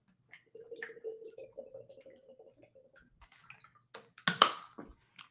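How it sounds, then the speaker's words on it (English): A person takes a drink of water, with quiet, scattered liquid drips and small knocks building to a brief, louder splashing gulp near the end, close and otherwise quiet. "let me get a drink of water"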